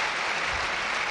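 A football stadium crowd applauds a substituted player with a dense, steady wash of clapping that holds evenly for about a second.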